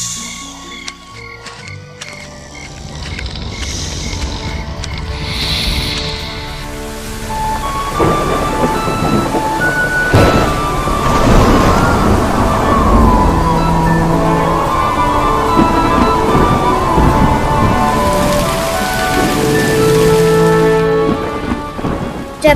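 A thunderstorm with heavy rain pouring down steadily, punctuated by deep rolling thunder claps, loud and continuous throughout.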